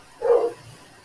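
A single short dog bark indoors, moderately close and clear, followed by a faint low whimper and quiet room noise.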